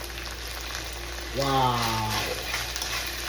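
Mixed vegetables hitting a hot pan for arroz a la cubana, a steady sizzle and frying hiss under stirring, while a voice briefly exclaims over it.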